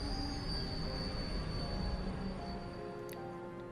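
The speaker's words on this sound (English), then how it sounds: "Is the main campus's train." A train arriving at the main campus in Trails of Cold Steel 4, a steady loud rumble of rolling wheels with a thin high squeal of wheels on rails running throughout.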